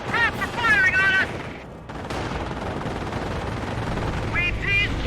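Rapid bursts of machine-gun and rifle fire crackle in Company of Heroes, a World War II strategy game, dense and continuous amid battle noise, with shouted voices briefly mixed in near the start.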